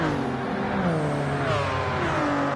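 A race car engine in a GT endurance racing video game, revving with a rising whine toward the top of its gearbox, then a dip as the gear changes, loud and continuous.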